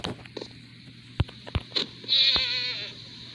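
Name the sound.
goat bleating in Minecraft video game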